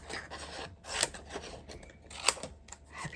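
Scissors snip through craft paper scraps in repeated close rasping cuts, with sharper clicks as the blades close, set against a quiet room.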